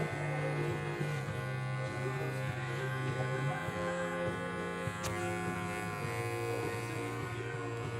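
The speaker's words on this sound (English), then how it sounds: "Then I'm going to go back and shave it reverse." Electric clippers buzz steadily as they shave a miniature poodle's neck in a grooming salon, a close, continuous hum with slight pitch shifts as the blade moves, with no talk over it.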